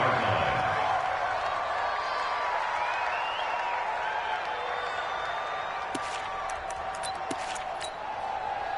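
A stadium crowd in a PS4 American football game, Bills on offense, holds a steady broad roar that eases slightly, with scattered clicks and game sounds on top.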